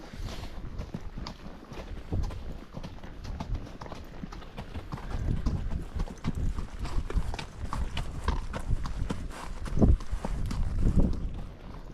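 Hooves of a wild mustang named Timber clip-clopping on a camping trail, a steady close walking rhythm of thuds and scuffs continuing throughout, with faint rustling around.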